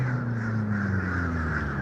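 Crows cawing around the Disney Skyliner gondola station at Caribbean Beach Resort, a steady chorus of harsh calls from a flock over a constant low mechanical hum, with no talking.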